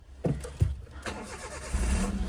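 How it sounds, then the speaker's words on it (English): A 2004 Suzuki Lapin SS with a stick shift starts up: a short cranking burst, then a second crank as the engine catches and settles into a steady, close idle. "this is a Suzuki Lapin SS that apparently you need to put your foot on the clutch to start"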